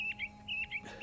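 A robin in the video game Beast Quest chirps in short, bright repeated phrases, two pairs of quick tweets with a brief pause between, clear and close against a quiet steady background hum.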